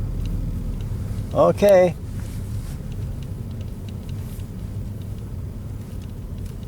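Car engine idling and rumbling low and steady inside the cabin during a child's first manual transmission driving lesson, a close continuous drone with one brief spoken word over it.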